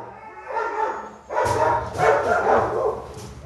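A dog named Loco gives a few close, muffled barks and yips, mixed with whimpering noises in a steady run of vocal sounds, loud and close.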